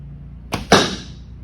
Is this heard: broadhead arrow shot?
yes